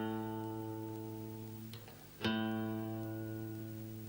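A single guitar note, the A on the sixth string at the fifth fret, rings and sustains steadily, then is plucked again partway through and sustains once more, moderately quiet and alone.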